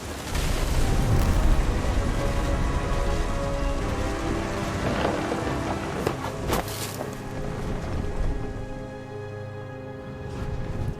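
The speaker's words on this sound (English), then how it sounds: "The thunder sounded much too close and full of angry power" A heavy thunderstorm from the game What Remains of Edith Finch, with steady loud rain and rolling thunder rumbling close by. A few sharper cracks stand out midway before the storm eases slightly toward the end.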